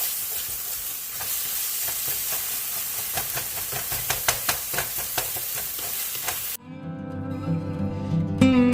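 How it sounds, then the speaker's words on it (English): Meat frying in a pan on a home stove gives a steady, close sizzle with sharp crackles and pops, ending in a softer, more tonal hiss with a faint hum. "I've got the meat over here cooking"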